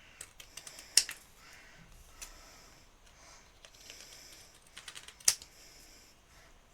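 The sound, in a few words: long scissors cutting card freehand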